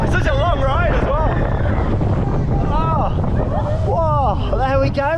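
A roller coaster run on Gold Rush, the family coaster at Drayton Manor, roars with loud rushing wind and rumbling track noise while riders whoop and shout excitedly throughout.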